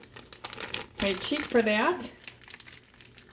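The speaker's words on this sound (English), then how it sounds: "So I'm just using a plastic bag, and I'm getting it all the way down to the corner." A plastic bag being worked down into its corner to make a piping bag, crinkling close up in a few bursts while a person speaks briefly.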